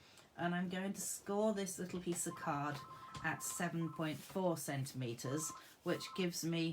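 A landline telephone rings in the background of a home craft session, its repeated electronic bursts faint and intermittent beneath a woman's continuous close speech.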